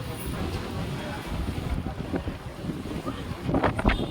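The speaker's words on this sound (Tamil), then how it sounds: "செம்ம காத்து. சன்னிலே இப்படி அடிக்குது." Strong wind buffets the microphone outdoors in sunny weather on a trip to a village temple festival, a steady low roar throughout with brief louder gusts near the end.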